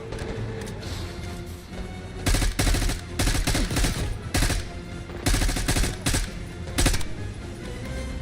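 M4 assault rifle fire in Call of Duty Black Ops 6 rattles out in repeated loud automatic bursts, each lasting a fraction of a second, with brief gaps between volleys over a steady background.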